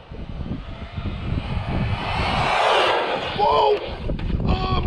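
An Arrma Fury BLX mid-motor rear-wheel-drive RC car on 2-3S power tearing past on a speed run with no stability control, a loud rising whirring roar swelling to a peak, then short whines and clatter as it passes.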